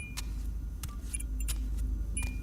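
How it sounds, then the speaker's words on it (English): A bunch of keys jingles as it is picked up from a table, several short bright metallic jangles spread over a couple of seconds, close but soft above a low steady rumble. "I walked over to the table and grabbed the keys."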